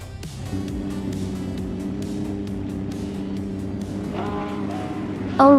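Engines of race cars led by a 1996 Toyota Sard MC8R drone steadily at Vallelunga Extended in a racing video game, a dense layered hum that holds level, then rising whines and a louder burst of revving or squeal close the moment.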